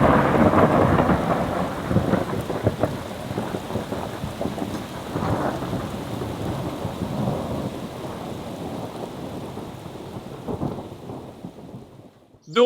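Steady rain hisses over a field fence line in the countryside while deep thunder rolls and rumbles repeatedly through the storm, with no voices.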